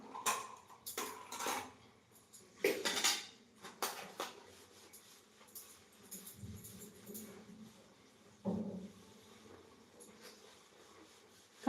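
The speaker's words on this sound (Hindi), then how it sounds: "मैं बर्तन धोत हो तो" Dishes, pots and cutlery being washed by hand, with scattered clinks and clatters of metal utensils and pans in bursts, near and moderately loud, separated by quieter pauses and light rustling.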